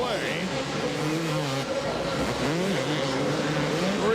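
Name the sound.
motorcycles racing on the final lap in the Supercross 2001 video game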